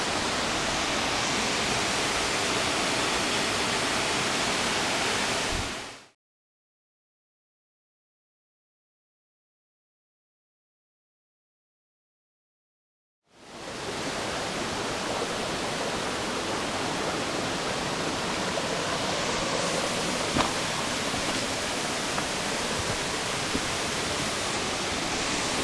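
A waterfall about 100 feet high pours into a box canyon along MacInnis Brook on Cape Breton Island, giving a loud, steady broadband roar that drops out entirely for several seconds midway before returning just as strong.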